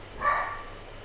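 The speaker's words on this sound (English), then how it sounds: "sorry, the dog is distracting me a little bit" A single short dog bark, faint and somewhat distant, rising briefly over a quiet room hum.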